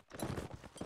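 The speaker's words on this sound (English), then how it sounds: "they're riding around on saddle horses with great axes" Cavalry on saddle horses wielding great axes clatter along in a strategy video game, a dense, steady clip-clop of many hooves at moderate loudness, briefly and with no talk.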